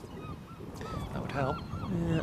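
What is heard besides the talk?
seagulls calling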